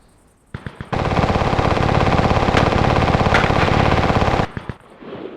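A mounted machine gun in The Division fires a long sustained burst of rapid, loud, close shots after a few single opening rounds, ending abruptly and followed by a couple of trailing shots.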